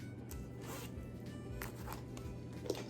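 A zipper on a small pouch inside a bag is pulled open and shut in several quick, rasping strokes, close and fairly quiet over a low steady background hum.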